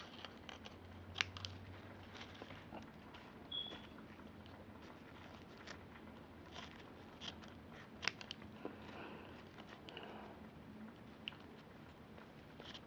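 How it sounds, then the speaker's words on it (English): Scissors snipping a piece off a paper streamer, with faint, scattered cuts and soft rustling at close range over a quiet background. "Now what I need this for is I'm gonna cut a piece off."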